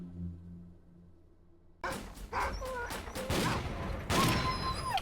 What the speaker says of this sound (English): There's a shitload of dogs around here.